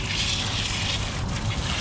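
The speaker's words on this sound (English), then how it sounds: "Here to wash out another t-shirt" Running water pours steadily while a tie-dye t-shirt is rinsed, a dense close hiss with no pauses.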